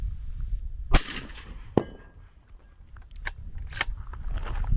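A suppressed Ruger American rifle fired freehand outdoors at a 250-yard target: a few sharp, short cracks spaced seconds apart over faint background noise.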